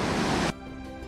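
Steady broadband rushing of a waterfall by a natural cave entrance, loud and continuous for half a second before cutting abruptly to a much quieter hiss with faint tonal hum.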